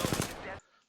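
Rapid automatic gunfire from a weapon in the video game Apex Legends, a dense burst of shots that cuts off abruptly partway through, followed by a faint quiet tail.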